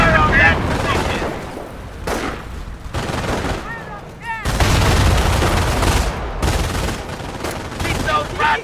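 Dense rifle and machine-gun fire crackles in rapid bursts during a video game beach assault on Normandy, loud and continuous with booming blasts and brief gaps, while shouted voices carry over the battle.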